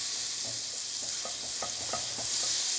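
Butter sizzles in a hot pan with beef juices, a dense, broad frying hiss with soft stirring scrapes and clinks, close and steady with no talk.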